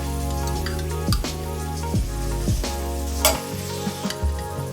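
Colossal scallops hit a pan with garlic, a steady loud sizzle of frying under a low hum, with occasional sharp clicks and scrapes from stirring.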